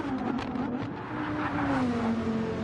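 Race car engine with a falling pitch as cars pass by in a racing video game series race, loud and continuous with a second engine tone layered beneath, no talking.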